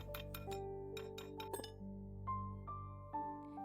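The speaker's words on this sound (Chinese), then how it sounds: "接着用打蛋器继续的搅拌， 搅拌到面糊变得丝滑" A whisk stirs vegetable pancake batter with oil and salt, tapping against the bowl in a quick run of bright, ringing clinks, then a few slower, spaced knocks.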